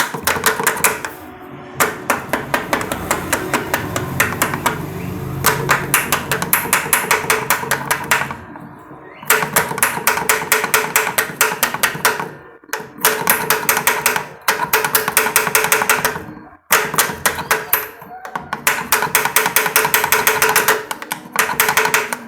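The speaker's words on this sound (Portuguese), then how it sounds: "E aqui eu só dar uma batidinha para ele encaixar melhor." Pliers tap and rattle against a Honda Fan 125 gear shift pedal to seat it on its splined shaft, a steady run of rapid metallic clicks with short pauses, close and fairly loud.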